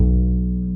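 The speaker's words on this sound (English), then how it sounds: "There used to be a B string, which would sound like this" Plucked B string on an upright bass, a single deep sustained note ringing with rich low harmonics, close and loud for under a second, with no talking.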